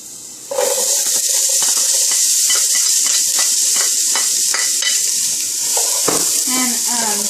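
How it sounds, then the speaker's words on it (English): Onions hit the oil in a pan that is not yet fully hot, a sudden loud hiss that settles into a steady sizzle with stirring clatters throughout. "onions are going in first"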